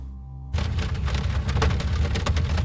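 Heavy rain begins abruptly after a brief quiet hum, then pours as a dense, loud, steady wash with a deep low rumble underneath suggesting thunder.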